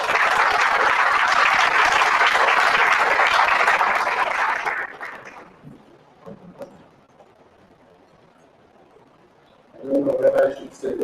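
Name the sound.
audience applause welcoming the guest speaker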